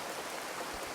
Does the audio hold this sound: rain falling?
yes